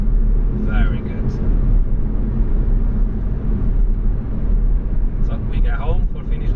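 Peugeot Citroen C4 with automatic gearbox cruising in fifth gear, a steady low engine and road rumble running throughout from inside the cabin, with faint voice fragments over it.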